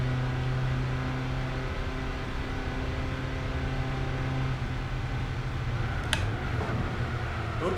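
A racing car engine in Gran Turismo 4 drones steadily at high revs, a dense continuous whine with a brief sharp click near the end and no voices.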